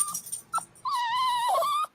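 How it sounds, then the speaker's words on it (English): A vocal dog whining close by: short whimpers followed by a long, rising and falling high-pitched whine, fairly faint, with no talk. "She's so vocal, this dog."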